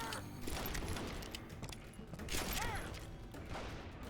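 Quiet, steady gunfire from the Wild West shooter Call of Juarez: Gunslinger, with a fusillade of scattered shots and mechanical clicks running through a continuous game-action bed.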